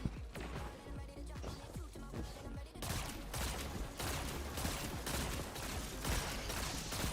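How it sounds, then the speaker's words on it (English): Micro missiles firing in Destiny 2: rapid volleys of sharp launches and impacts rattle in dense bursts, growing louder and more continuous halfway through, with some talk mixed underneath. "Micro missile."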